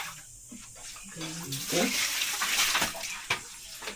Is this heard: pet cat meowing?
no